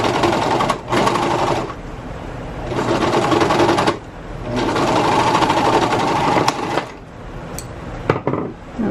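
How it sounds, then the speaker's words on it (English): A serger sewing machine stitches the seams of a dress, a loud, close, steady mechanical whir in long runs that stop and restart several times with brief gaps between. "I'm going to serge that close, making sure my seams match"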